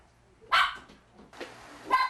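A schnauzer barks indoors near a family at dinnertime, two sharp close barks about a second apart followed by a third, loud against a quiet room with faint household noise.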